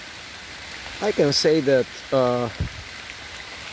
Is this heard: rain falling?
yes